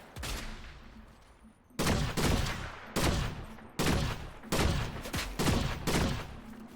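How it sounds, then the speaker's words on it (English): Repeated bursts of automatic gunfire come from below in an online shooter game, five or six loud, sharp volleys in a steady rhythm with brief gaps between them. "Someone's shooting us from below."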